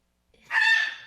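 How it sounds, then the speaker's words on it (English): A sudden, loud bird squawk like a macaw's, one harsh screech of about half a second that rises abruptly and tails off, heard alone with no talk. "It sounds like somebody smacked a macaw."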